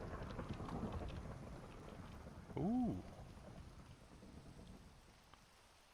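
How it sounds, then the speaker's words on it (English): Rain hisses and thunder rumbles through a video game thunderstorm, a soft steady patter with low rolling thunder, a brief game creature tone in the middle and a quiet voice reacting. "Sleep through the thunderstorm."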